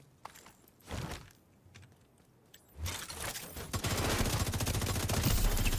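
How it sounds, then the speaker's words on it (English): Rapid video game gunfire bursts in a tense shooter scene, starting sparse then building into a dense, continuous rattle of shots that grows louder and fills the second half. "He's just shooting him in the hole in the back"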